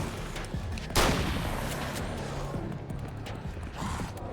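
Assault rifle fire in the video game Alan Wake: one loud, sharp report with a lingering tail, then a few faint mechanical clicks and thuds in the background.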